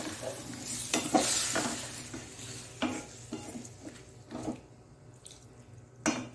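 Water poured into a pan of frying chicken and tomato for chicken karipatta, crackling and sizzling with bursts of hiss and stirring scrapes, loud at first then settling to a softer simmer.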